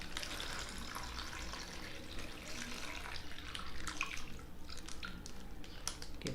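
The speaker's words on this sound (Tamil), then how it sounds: "ஸோ பால் இதில் ஊற்றுறேன்." Milk being poured into an InstaHot self-heating container makes a steady, faint liquid trickle with small drips and splashes, heard alone.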